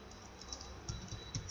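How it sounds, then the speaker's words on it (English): Faint, rapid clicking of fingers typing on a computer keyboard, a short quiet burst of irregular keystrokes against low room noise. "I am typing my workspace name Lakshmi"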